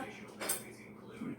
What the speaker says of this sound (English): Now, I like to take a clean cookie sheet.